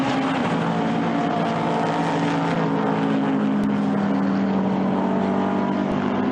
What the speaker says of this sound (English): we've got the cars working their way up front on lap number 39